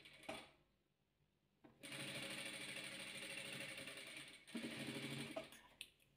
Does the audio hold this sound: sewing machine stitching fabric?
yes